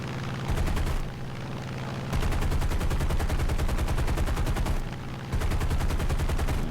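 Sustained rapid machine gun fire from a fighter plane's guns in a War Thunder realistic air battle, dense continuous bursts with brief pauses, loud and close over a steady engine drone.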